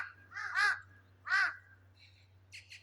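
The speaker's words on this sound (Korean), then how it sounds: "까마귀들이 울으면" A crow caws twice in clear, separate calls, fairly close, followed by fainter, higher bird calls, all over a low steady hum with no talking.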